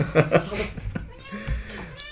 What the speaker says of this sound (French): Voilà, le chat se plaint.